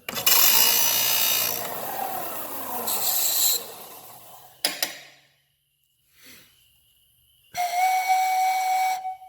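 A homemade pan flute pipe tuned a step from F sharp is blown, giving airy, breathy tones with hiss, then silence, then a cleaner sustained whistle-like note near the end.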